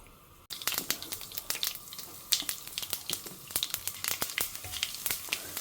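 Mustard seeds and fenugreek fry in hot oil, crackling and popping in a close, irregular run of small sharp bursts with no voices.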